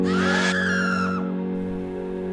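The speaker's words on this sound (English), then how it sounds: "the Re-Dead, who can freeze time and wrap around the Link with a blood-curdling scream" The Re-Dead from Ocarina of Time lets out a blood-curdling scream, a loud shrill wail that sweeps down and fades into a low droning hum.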